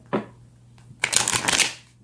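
Tarot cards being shuffled close up: a brief riffle, a pause, then a longer, louder flurry of card shuffling, with no voices.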